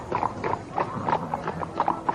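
Hooves of a white horse being ridden clip-clop in a steady, even rhythm, close and clear, with no one speaking over them.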